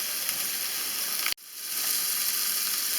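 Lamb sausages sizzle steadily in a frying pan, a dense close hiss that cuts out abruptly for a moment before the crackling frying resumes.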